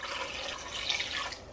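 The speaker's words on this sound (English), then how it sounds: "I'm gonna add a cup of water." A cup of water poured into a crock pot for white chicken chili, a faint steady trickle of liquid close by for under two seconds, with no talk.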